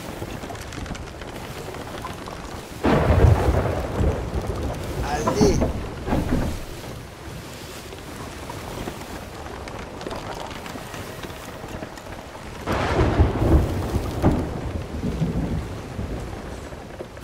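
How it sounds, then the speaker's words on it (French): Rolling thunder and steady rain during a storm at sea in the pirate sailing game Sea of Thieves. Two loud bursts of thunder rise above a constant wash of rain and wind, and a voice speaks briefly. "c'était un petit orage encore, on n'a pas trop morflé"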